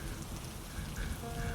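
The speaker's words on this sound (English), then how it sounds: "Warm ocean evaporates, rain pours endlessly." Heavy rain from a tropical storm pours down steadily, a dense, even hiss of drops striking surfaces with no break, faint in level.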